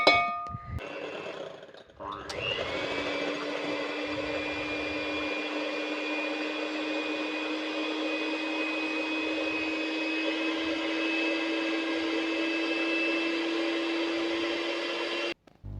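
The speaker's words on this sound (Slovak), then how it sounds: "A keď už máme vyšľahané bielko" An electric hand mixer whips egg whites in a bowl for a punch cake: a click and brief clatter, then a steady, loud, high motor whine running unbroken for about thirteen seconds before cutting off.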